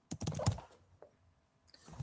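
Someone types on a computer keyboard in a quick burst of clicky keystrokes, then pauses, with a lone tap and a few more keys near the end; close and fairly quiet.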